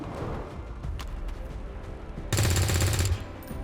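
Gunfire in the video game XCOM 2: a few faint scattered shots, then a loud sustained burst of rapid automatic fire lasting under a second before it cuts off.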